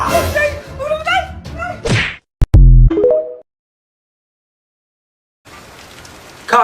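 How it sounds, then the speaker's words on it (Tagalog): Heavy rain pours as a dense hiss that arrives only near the end, after voices and a stretch of silence. "Kahit malakas ang ulan,"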